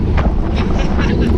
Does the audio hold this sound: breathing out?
no